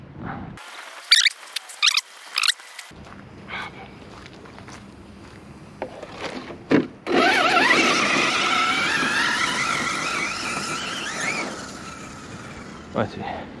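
A Hobao Hyper 8SC radio-controlled car runs with a whining electric drive, first in scattered short bursts and clicks, then a sustained loud rush of motor and tire noise over the final seconds.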